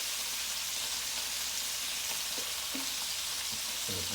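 Meatballs sizzle and fry steadily in a Power XL cooker, a loud continuous crackle with a few faint taps of handling near the end.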